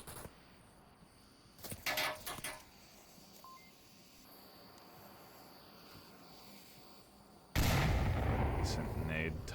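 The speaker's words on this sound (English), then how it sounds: "Decent nade toss." A grenade goes off in the VR shooter Onward during a competitive match, a loud sudden blast near the end that follows quieter gunfire and game noise.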